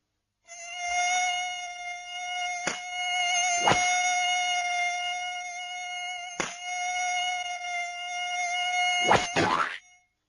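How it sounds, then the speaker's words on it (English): A bee buzzes steadily at close range for about nine seconds, a continuous droning whine broken by a few sharp ticks and bumps, then fading out at the end. "It isn't a mosquito, Mike. It's a bee."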